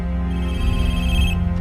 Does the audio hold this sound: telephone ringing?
yes